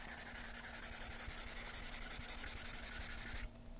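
Stylus scratching steadily across the matte screen of a Note Air 3C e-reader, a close, continuous dry rubbing with a fast rhythmic texture that stops abruptly near the end.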